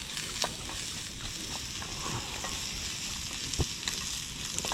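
Oil sizzles steadily in a small pan over a camp stove at a tent campsite on Kodukuthimala, with onions and chilli frying, and a few faint stirring clicks over the constant hiss; no one talks.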